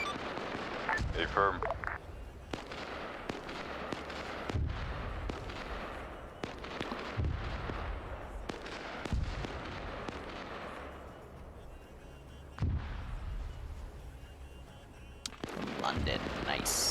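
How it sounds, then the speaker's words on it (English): A large mortar barrage pounds a trench warfare battlefield in the video game Arma 3. Booming explosions land in rapid, overlapping succession, keeping up a dense, continuous roar, and a voice speaks briefly over it. "Be advised, large mortar barrage coming in."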